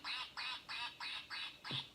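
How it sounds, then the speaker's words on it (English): A duck quacking six times in an even, evenly spaced series, clear and fairly close, with no talk over it. "that's a duck"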